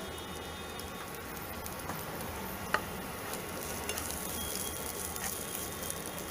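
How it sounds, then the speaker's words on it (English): Chopped red capsicum sautéing for tempered stuffed rice makes a faint, steady sizzle and stir with one small clink partway through, no voices. "Giving it a quick saute."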